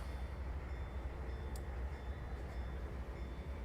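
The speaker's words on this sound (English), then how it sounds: "So now we've got 2 locomotives for maximum power." Two locomotives run coupled together in the train simulator game Trainz, a steady low rumbling engine drone with faint rail noise, continuous and moderately quiet, without speech.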